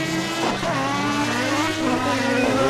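A 1975 Formula 1 car in a sim racing game at Rouen revs hard as the driver gets on the throttle too early out of a corner, with a loud rising engine whine and tire noise.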